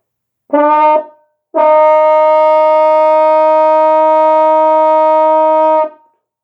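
A brass instrument sounds a brief note, pauses, then holds a long steady B flat for about four seconds, full and loud.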